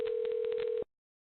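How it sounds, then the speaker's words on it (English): A single steady electronic telephone tone sounds close and clear for under a second, then cuts off abruptly into silence. "I just heard a phone ring."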